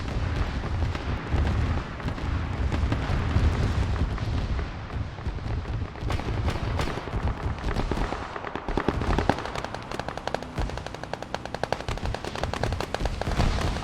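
Dense continuous gunfire and explosions from a Warhammer 40K video game beach assault, with rapid machine-gun bursts and heavy blasts layered into a loud, unbroken battle din.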